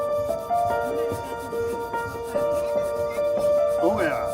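A Sinduri stone on Govardhan hill rubbed by hand, a repeated scraping friction in short strokes, close and fairly steady, with a faint tonal hum running underneath.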